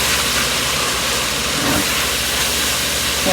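Italian sausage sizzling in a pan on the stove for tortellini soup, a continuous loud hissing fry with a brief stirring scrape partway through, heard alone without voices.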